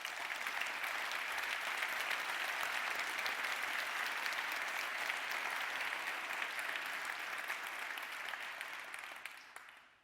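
A large audience gives a sustained ovation at an anniversary ceremony, dense steady clapping lasting about ten seconds before it fades out at the end.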